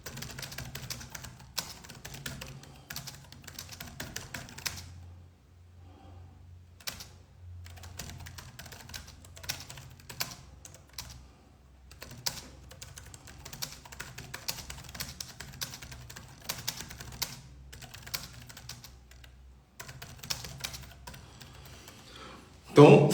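Someone typing notes on a computer keyboard, bursts of rapid clicking keystrokes broken by short pauses, fairly close and moderately loud, with some speech now and then.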